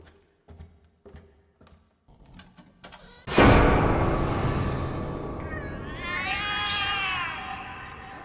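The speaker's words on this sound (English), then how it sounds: "The cats are alarming" Cats meow and caterwaul in The Cat Lady game, loud drawn-out wailing cries erupting after a few quiet taps and continuing with rising, wavering yowls.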